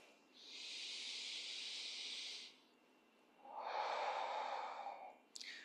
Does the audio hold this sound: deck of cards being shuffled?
no